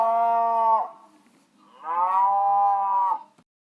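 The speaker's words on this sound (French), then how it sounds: "beugle la vache" A farm cow gives two long, loud moos separated by a short pause, each a drawn-out tonal bellow heard close and alone.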